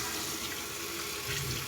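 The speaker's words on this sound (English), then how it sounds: "Apologize for the water." Water runs steadily from a tap into a sink as a continuous, close hiss of splashing flow with no talk over it, during a shaving test.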